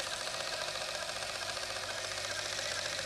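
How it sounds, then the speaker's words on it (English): A small printer on a Sinclair computer prints out a palindrome program, a steady fast buzzing chatter of the print head running continuously at close range with no pauses. "this Sinclair machine has a small printer on it, and we've written a sort of version of our palindrome program, and we could print that out"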